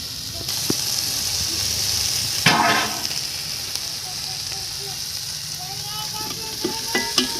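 Biryani masala with tomato and green chili frying and being stirred in a pot over a village wood fire, a steady close sizzle with scraping stirs and a brief louder burst of spattering partway through.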